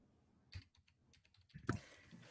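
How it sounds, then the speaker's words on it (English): Keys on a computer keyboard tapped in short bursts, quiet and close, with a cluster of quicker clicks toward the end. "as you're typing that in"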